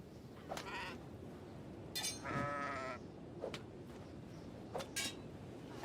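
A farm goat bleats in the game Kenshi while under attack, several faint, wavering bleats spread across a busy backdrop of combat clinks and rustle, with one longer, clearer cry in the middle.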